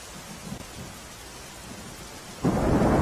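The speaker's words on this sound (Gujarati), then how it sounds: "કપડવંજ, નડિયાદ સહિતના વિસ્તારોમાં ધોધમાર વરસાદ વરસી રહ્યો છે" Heavy downpour across the Kheda district towns of Kapadvanj and Nadiad in Gujarat, a steady dense hiss of rain that swells abruptly louder near the end, with no voices.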